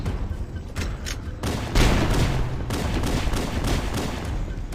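Loud, rapid bursts of gunfire from weapons in the Halo video game crackle and boom in quick succession, with heavier blasts swelling midway and continuing steadily.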